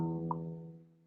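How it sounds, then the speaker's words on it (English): A guitar's low E string is plucked once and left to ring, a quiet single note slowly decaying with a faint click near the start. "So it'd be the lower pitch E string. And it should sound like this."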